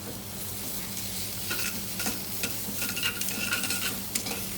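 Tomato paste roasting in a pan for a lamb casserole gives a steady sizzle, while a utensil scrapes and stirs in short bursts that grow busier toward the end, with no talk.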